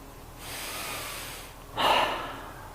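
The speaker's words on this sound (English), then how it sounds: "just taking 2 last breaths" Two slow, deep breaths close a yoga sun salutation sequence: a soft drawn-out inhale, a pause, then a louder, breathy exhale through the nose, close and alone in a quiet room.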